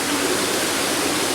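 Water bubbling and splashing down in a home fish tank setup, a steady, dense rushing wash like a small waterfall that stays close and even from start to finish, with no voices.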